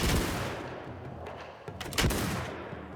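Gunfire in Mount & Blade II: Bannerlord, with its Shokuho setting of a Japanese battlefield: a loud crack at the start, then a scatter of further shots and a strong volley near the two-second mark, over battle noise.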